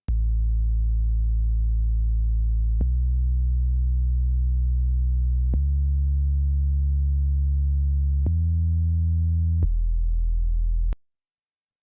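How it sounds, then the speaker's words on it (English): Sub bass in a beat mix plays alone as five long, clean, sustained low tones, each stepping to a new pitch, steady and loud for about eleven seconds before cutting off. "let's listen to what's going on with the sub bass here"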